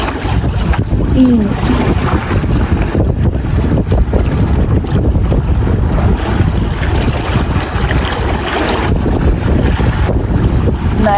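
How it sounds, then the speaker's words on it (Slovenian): Sea with wind and waves, a continuous loud rushing wash with gusty microphone noise, while a voice speaks briefly over it. "Naj vas glas morja malce pomiri in sprosti."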